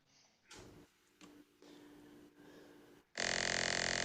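A low C note is played on a keyboard, heard as a few short, buzzy, low tones repeated with gaps, followed by a sudden loud burst of noise at the end.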